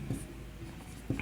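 Quiet scratching of writing on a board, a few brief strokes and taps in a hushed room with no talking.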